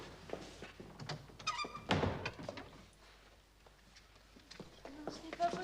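A door swung shut in a period room, one firm thunk standing out amid rustling movement, with muffled talk and scattered footsteps around it.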